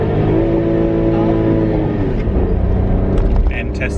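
A car engine revs hard against the rev limiter on a road trip toward Brighton in the United Kingdom, a loud, close, sustained buzzing drone from inside the car, with voices audible in the cabin.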